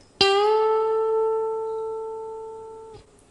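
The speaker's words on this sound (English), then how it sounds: "12th fret, 3rd string, we do a standard 2 fret bend." A single electric guitar note on the 3rd string at the 12th fret, plucked and bent up two frets, then held and sustained for a few seconds before being cut off.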